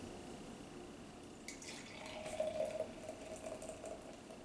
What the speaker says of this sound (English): we're going to go ahead and pour and see what it's like